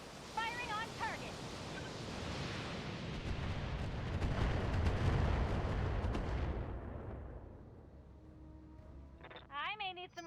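Weapons fire on a target in a video game: a sustained roaring barrage of shots and blasts builds and fades over several seconds, with chirpy electronic tones and a brief voice near the end.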